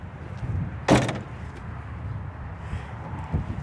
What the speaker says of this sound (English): And then on each door, as I shut these, you'll notice I have additional storage